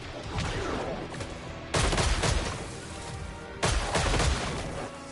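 Gunfire from a weapon in the video game Killing Floor 3: two loud bursts of rapid shots at about 1.7 and 3.6 seconds stand over a constant noisy backdrop of game ambience, with scattered single reports between them.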